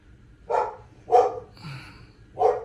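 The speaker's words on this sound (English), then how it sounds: "my dog's barking." A dog barks close by in three sharp, evenly spaced woofs, with a brief whine or yip between the second and third bark.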